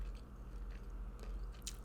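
Slow, soft chewing of a snack, close and quiet, with a few faint crunchy bites over a low steady background hum.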